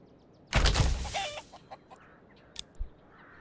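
Chickens clucking at a chicken coop in the medieval city builder game Manor Lords, with a loud burst of squawking followed by scattered softer clucks and chirps.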